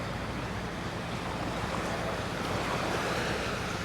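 Surf breaking along a shoreline, a steady broadband wash of waves with some wind rumble, continuous and fairly even throughout, no voices.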